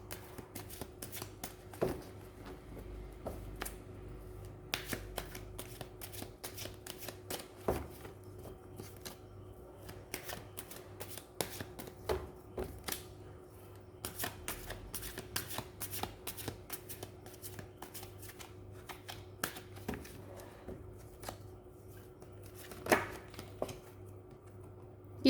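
Tarot cards being shuffled by hand during a reading, a steady run of crisp riffling and tapping clicks close by, moderately quiet over a low hum, with no talking.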